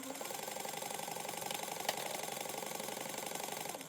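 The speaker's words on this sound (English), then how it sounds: "you're going to sew this together at a 1/4 inch" A sewing machine stitches backpack fabric along a 1/4 inch seam, giving a steady, fast mechanical whir with an even rhythmic chatter throughout. It sounds close and moderately quiet, with no one talking.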